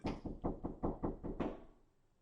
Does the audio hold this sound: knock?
yes